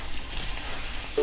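Rice browning in oil in a frying pan for Spanish-style Mexican rice gives a steady, close, continuous sizzle with no voices over it.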